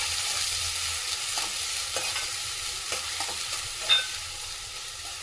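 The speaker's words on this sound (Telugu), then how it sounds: "ఇప్పుడు మంచిగా ఫ్రై అవ్వాలి ఇది." Chopped green chillies and onion fry in hot oil for gobi 65, giving a steady close sizzle broken by several scraping stirs and one sharp clink.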